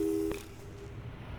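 A short telephone busy tone from the video game Portal 2 sounds once, clear and fairly quiet, then cuts off, leaving faint low background hum.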